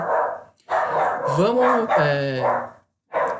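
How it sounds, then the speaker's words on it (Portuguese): Dogs bark in short bursts nearby, mixed in with a person talking almost throughout and partly masked by the voice. "os cachorros latindo aqui"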